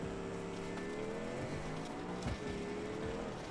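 Engine note of a Baja race car pulling away from the line, a steady close motor drone with rising harmonics and a brief rough burst midway.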